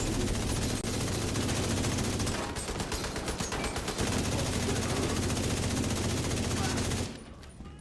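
Sustained rapid gunfire in a hardcore first-person shooter game, loud dense bursts running continuously for about seven seconds before cutting off abruptly, with faint voices underneath.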